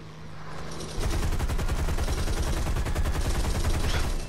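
Aircraft machine guns in the War Thunder air-combat game open up in a dense, rapid burst of gunfire that begins after a second of engine drone and hammers on continuously and loudly to the end.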